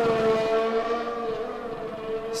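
An F1 race car in F1 2021 pulls away on soft tires, its engine holding a loud, steady, high whine with little change in pitch.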